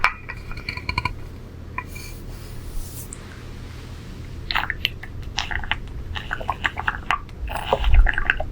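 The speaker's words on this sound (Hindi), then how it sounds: "मैं थोड़ा सा पानी पी लूँ।" A woman takes a small drink of water from a glass in a quiet room: a faint clink of glass, soft sips and swallowing sounds, a few light taps, with no talking.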